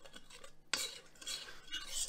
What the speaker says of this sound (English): then I just give it a stir to really incorporate everything